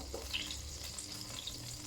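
Oil heating in a pan for frying onions for lamb curry, giving a steady, soft hiss and crackle with faint sizzling throughout and no voices.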